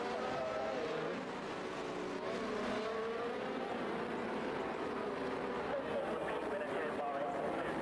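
Race cars in a Speed Force Racing game round at Bahrain sweep around the final corner, a steady dense engine roar with layered revving tones holding loud throughout, and a voice talking over it.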